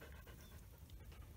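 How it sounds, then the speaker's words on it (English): A dog pants quickly and rhythmically right next to the microphone, quiet overall but close, with breathy puffs over outdoor noise during a mid-July crop walk. "Oh, freaking dog"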